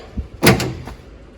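A door latch on a 1949 Chevy 3600 truck pushed forward to lock, giving a soft tap and then a sharp metallic clunk with a short rattle, close and isolated.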